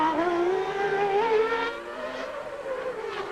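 A 1990 Formula 1 car driven by Senna in qualifying at the Australian Grand Prix screams loudly and close by, its engine pitch climbing and then dropping as it brakes into a corner.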